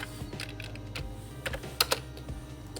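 Keys clatter on a computer keyboard as a ping command is typed, a quick run of close, crisp clicks with a couple of sharper taps near the end, no voices.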